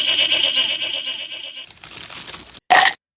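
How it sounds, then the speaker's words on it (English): A ghostly goat bleats in a long wavering call, then crunches and crumples paper mail as it eats, ending with a sharp loud rustle. "It's now been eaten by a ghost goat."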